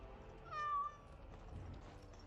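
Sir Pounce-a-Lot, a cat in Dragon Age: Origins, gives a single short, clear meow over a quiet game background.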